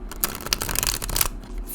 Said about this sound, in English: So as you can see, I like to riffle shuffle.